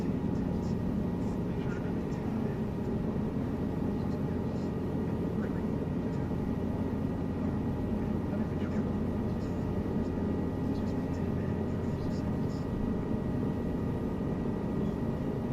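Helicopter rotor and turbine engine in the game Flight Simulator, a steady, loud, even drone with a low throbbing hum and broad whooshing noise that runs unbroken throughout.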